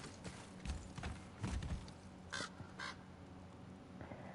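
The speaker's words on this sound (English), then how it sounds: "I keep hearing that raven and thinking it's one of Odin's" Two short raven caws ring out in the God of War video game, distinct calls at about 2.4 and 2.9 seconds over a low, busy game soundscape with some heavier thuds earlier.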